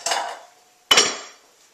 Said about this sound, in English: Put it into the bowl and then take it over there.